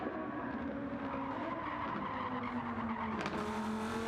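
A race car in a sim racing game running wide at the Nürburgring in a Corolla Cup or Lamborghini Trophy race, with a steady droning engine note that shifts pitch and tires scrubbing briefly near the end.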